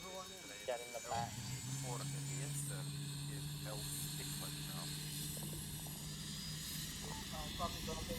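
Helicopter engine in a video game: a steady low droning hum that settles in after the first second and runs unbroken, with people talking over it throughout.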